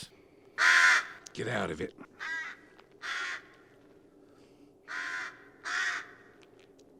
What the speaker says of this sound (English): As the crow begins to caw, Frank yells to the crow with annoyance.